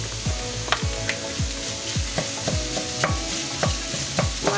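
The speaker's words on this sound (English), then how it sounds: "Now we're going to add the pancetta." Pancetta fries in a pan for a Bolognese sauce, a close sizzle broken by repeated rhythmic scrapes of a wooden spoon stirring, with no voices.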